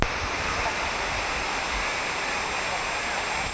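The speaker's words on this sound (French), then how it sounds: "Le site de Oued El Bered est encastré entre deux flancs rocheux, d'où coulent de grandes cascades" Large waterfalls pour down between two rocky cliffs at Oued El Bered, Algeria, a steady, loud, broadband roar of rushing water that stays even throughout.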